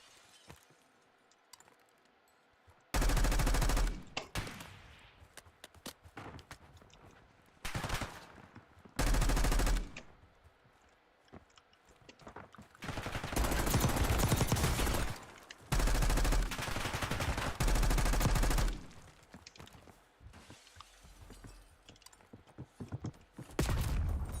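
Sniper and other gunfire in the Warzone video game, heard as bursts of loud cracks and rapid volleys separated by quieter gaps, spread across the stretch with no talking.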